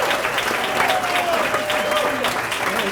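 An audience applauding for Mike Hazard at a Center for International Education event, steady, loud clapping from a crowd filling the whole moment, with a voice faintly heard over it.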